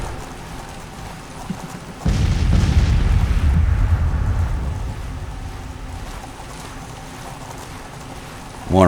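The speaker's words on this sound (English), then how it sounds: "Starting to take artillery fire." Artillery fire in the Civil War strategy game Grand Tactician: a heavy boom lands suddenly and rumbles away over a few seconds against a steady battlefield background.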